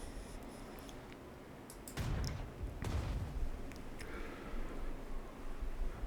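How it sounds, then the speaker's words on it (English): Artillery fire in the World War II strategy game Strategic Mind: Spirit of Liberty, with two heavy booming blasts about a second apart that rumble over a steady background of game noise. "we do have our artillery here, so we can take this guy and we can fire out at him"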